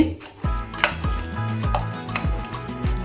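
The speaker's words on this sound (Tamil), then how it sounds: "இதை நல்லா மிக்ஸ் பண்ணிக்கோங்க இப்படி" Mashing and mixing ripe banana with jaggery in a bowl for a banana cake, a close run of repeated soft thuds and scraping knocks against the bowl at a steady, uneven rhythm, without speech.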